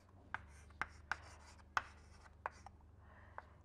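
Chalk or pen strikes a board while an equation is written during a lecture, a series of short sharp taps and scratchy strokes spaced irregularly over a quiet room hum, no talking.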